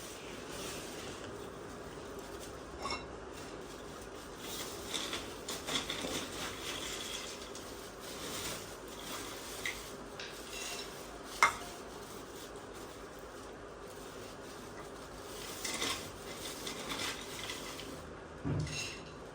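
Cooking pots and metal utensils being handled in a village kitchen, with scattered quiet clinks, scrapes and knocks at irregular intervals, including one sharper clank, over a faint background.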